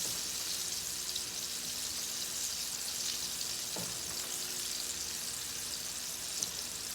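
Onion rings deep frying in hot oil, a soft steady sizzle and crackle throughout with a few small pops, fairly quiet and with no talking.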